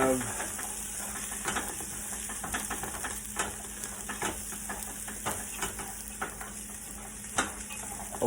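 Caramelized onion and plain cauliflower sizzling in a frying pan, a continuous close hiss broken by frequent small pops and crackles, with occasional stirring clicks on the pan.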